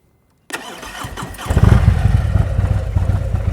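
A motorcycle engine starts up and runs during slow-speed riding practice in Illinois, with the rider working the clutch and rear brake. It is loud and close, and the engine note rises and thickens into a steady, throbbing run.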